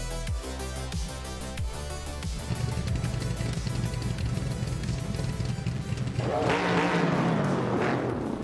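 A classic 1971 Dodge Charger and other muscle cars start a race at Vallelunga Extended in a racing video game. Engines rev in rising pulses, then a dense roar builds as the pack pulls away, with a sharp tire-squeal burst near the end.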